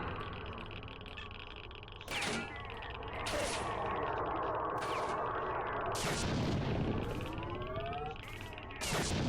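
Gunfire rings out in the video game S.T.A.L.K.E.R. Shadow of Chernobyl: several loud, sharp shots spaced a second or two apart, each with a ringing tail, over steady ambient game noise.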